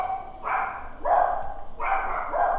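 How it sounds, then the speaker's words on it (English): Several dogs bark in a home, about three loud bursts of overlapping barks spaced a second or so apart, close and fairly loud. "I'm going to go quiet my dogs"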